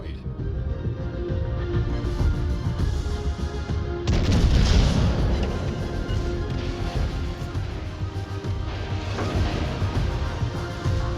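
Torpedo hits exploding in the naval game World of Warships Legends, a heavy booming blast at about four seconds rising out of continuous rumbling battle noise, with speech running over it.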